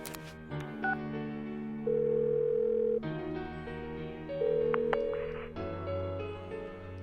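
Synthesized phone-call ringing and dial tones in the video game Persona 4 Golden, steady sustained electronic tones changing pitch in blocks, loud and alone with no speech.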